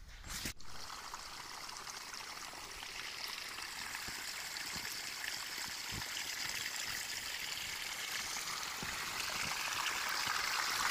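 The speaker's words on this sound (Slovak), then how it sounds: "Krhlou a lievikom nalievame vodu do hadice a dúfame, že už je vzduchotesne spojená" Ice-cold stream water pours steadily from a watering can through a funnel into a hose, a continuous close rushing gurgle that swells slightly toward the end, with a brief knock at the start and no talk.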